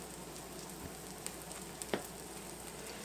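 A grilled quesadilla sandwich sizzles steadily in a pan, a soft continuous frying hiss with a few faint pops and light scrapes.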